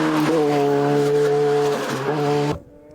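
Alpine A110 GT4+ race car at a rally, its engine loud and close with a steady high harmonic drone that holds, dips briefly, then cuts off sharply near the end as the car passes.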